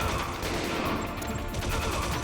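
Dense, sustained gunfire in the Metal Gear Solid video game: a loud, continuous volley of overlapping shots with no pauses, no talking.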